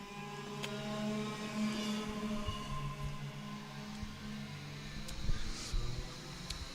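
Kart number 132 in the IAME Nordic Cup at KNA Varna, Norway, crossing the start-finish line, a steady moderately loud engine drone that swells a little, with faint sharp clicks.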